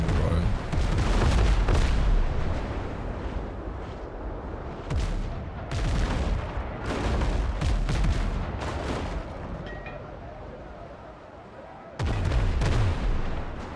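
Repeated heavy cannon booms in the pirate naval game Windrose, loud and close, firing in uneven bursts with short gaps between volleys.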